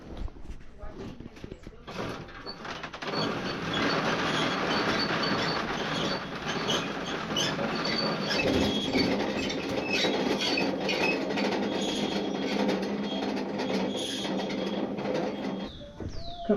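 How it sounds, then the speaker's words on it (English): A coffee pulping machine strips the skins from coffee cherries on a farm in Salento, Colombia, kicking in after about two seconds as a loud, steady rattling mechanical drone, with voices speaking over it. "This machine's going to take the skins off the coffee"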